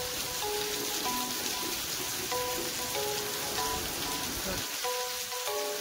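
Heavy nighttime rain pours steadily as a dense, unbroken hiss. Faint tonal sounds drift through in the background.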